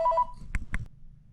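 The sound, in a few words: mobile phone sounds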